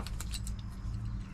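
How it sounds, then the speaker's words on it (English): A set of Allen keys jangling, with a quick run of bright metallic clinks in the first half second that fades, heard over a low steady rumble. "good set of Allen keys"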